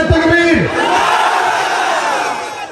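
A large crowd at a Bengali religious gathering shouts the takbir in unison, a loud, sustained roar of many voices answering a call and trailing off gradually.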